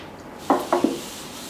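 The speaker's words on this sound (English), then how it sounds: "use a little mineral spirits and just rub it on there" A cloth rubbing mineral spirits onto a knotty wooden board, a few short soft scrubbing strokes close up in a quiet room, with no talking.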